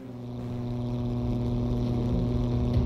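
Aircraft engines in the 303 Squadron Battle of Britain game throttling up, a steady droning propeller roar that swells gradually louder over a few seconds, heard alone.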